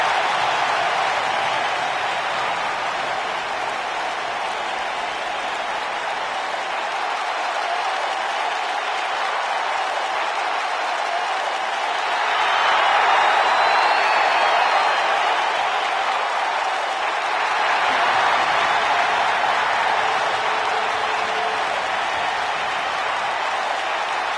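A sold-out arena crowd in the WWE 2K19 wrestling game applauds and cheers, a dense steady roar of clapping that swells midway and stays loud throughout.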